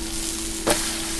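Steady sizzle of a malted blueberry pancake frying in a pan just after flipping, a continuous hiss with a brief louder spatter partway through.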